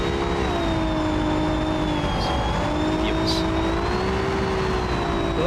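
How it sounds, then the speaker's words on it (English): A pack of Formula Three race cars runs behind the safety car at the Chinese Grand Prix, a steady, continuous engine drone whose pitch wavers slowly. A commentator speaks over it throughout. "the safety car pack is going through turn 2"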